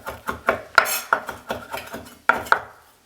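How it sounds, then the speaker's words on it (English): Fresh mint and dill chopped with a knife on a board, a run of about ten crisp, uneven thuds and clicks, close and distinct, with no voice over them. "So I'm going to chop a little mint because I know I love mint and I love this dill."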